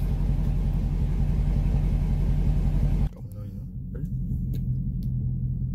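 A 2018 Dodge Challenger Scat Pack 392 V8 rumbling as it reverses, a deep steady idle that drops abruptly partway through to a quieter low hum with faint scattered noises.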